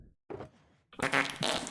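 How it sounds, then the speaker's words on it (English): A crude fart sound effect from the game Lyfcraft 2, a few sputtering bursts with a short gap, ending in a louder, raspier blast. "Oh, that's a disgusting fart."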